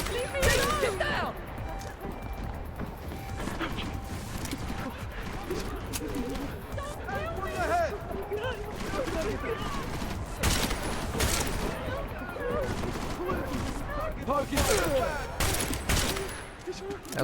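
Gunfire fills a firefight in the shooter game Deus Ex: Mankind Divided: dense, sustained bursts and rapid shots rattle on continuously, with voices talking underneath.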